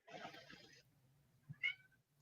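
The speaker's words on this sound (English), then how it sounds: "This isn't the that orange cat will not go away." An orange cat meows nearby, one drawn-out cry followed after a short gap by a brief higher mew, both fairly faint over low room hum.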